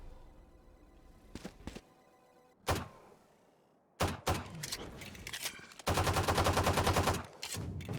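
Gunfire in the video game Valorant, scattered single shots and then a rapid burst of repeated shots, sharp and loud against a quieter game background, with no talk.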